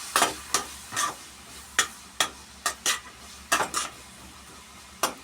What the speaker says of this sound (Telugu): అదిగోండి ఉల్లిపాయలు అలాగే పచ్చిమిర్చి వేశారనమాట.